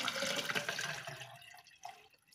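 Water gushes from a tap in a strong, bright splash that tapers off as the flow is shut off, ending with a faint drip; no talking.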